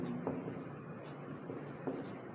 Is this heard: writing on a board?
yes